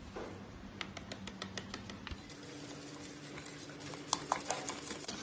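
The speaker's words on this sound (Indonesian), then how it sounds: "Diaduk sampai jangan menggumpal agar-agarnya." A spoon stirs agar-agar pudding mixture with sugar for butterfly pea pudding, giving a soft, steady scraping patter against the pot with a few sharper clinks near the end, close up and with no talk.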